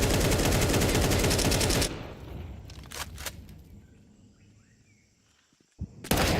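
Counter-Strike 2 gunfire during a tournament match: a dense burst of rapid automatic fire, then a lull with a couple of sharp isolated shots, and another loud shot at the end.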